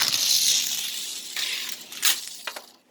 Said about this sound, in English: So the booster goes crashing into this box.